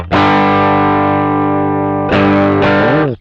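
Electric guitar played through a Behringer Chorus Symphony pedal: a long sustained chord with a thick, shimmering, slightly driven tone, followed by two quick re-struck chords, the last bending and fading out.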